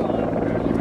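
A CH-146 Griffon, the militarized twin-engine version of the civilian Bell 412, roaring steadily and close during an airshow demonstration, a dense continuous rotor and turbine din for under a second.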